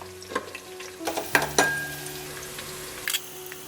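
Two bay leaves and green chillies frying in hot oil for Ankapur country chicken curry, a soft steady sizzle broken by several sharp clinks of a spoon stirring against the pan.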